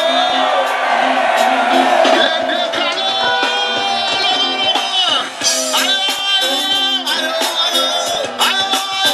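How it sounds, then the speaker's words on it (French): A festival crowd at a live DJ concert on Climbie Beach in Assinie shouts and whoops together in a loud, sustained roar of massed voices, with bursts of cheering rising and falling over the music. "Que celui qui a déjà fumé poupou nampou crie oh yeah"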